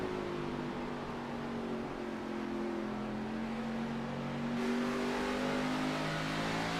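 A race car at Richmond Raceway accelerates under steady throttle, its engine note climbing in pitch as it pulls through, loud and continuous with a gear change partway.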